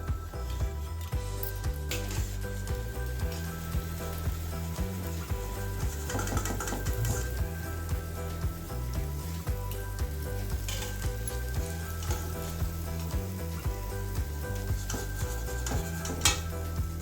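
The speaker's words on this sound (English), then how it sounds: "Now we'll put this into the sugar syrup." Fried kaja, a sweet pastry, sizzles in hot sugar syrup with steady crackling and frying noise while a rhythmic backing track plays throughout.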